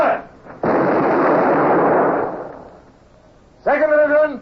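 A naval cannon broadside fired by the first division of a ship's guns crashes out as one long, heavy roaring blast. It rumbles for nearly two seconds, fades, and then a voice shouts.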